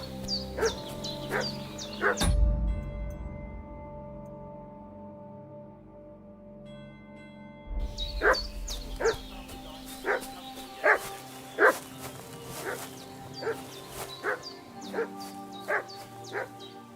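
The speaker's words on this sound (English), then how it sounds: "What's that dog making such a fuss about?" A dog barking in Kingdom Come: Deliverance II, medieval village setting, with a few yips early, a pause, then a long run of repeated moderately distant barks.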